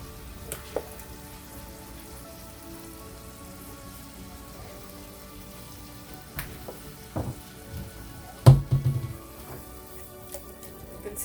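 Food frying in a pan with pepper being added, a faint steady sizzle with a few louder pops and clatters near the end, no talking.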